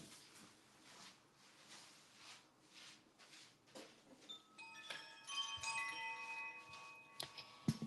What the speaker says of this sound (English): And as you participate with the evening chime tonight, as you hear it